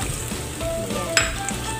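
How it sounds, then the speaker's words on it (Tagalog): Kusa squash with onions fries in a hot pan, a steady close sizzle with a stirring scrape and a brief utensil clink partway through. "At ilalagay na natin si kusa. Ayan. I-fry natin kunti si kusa."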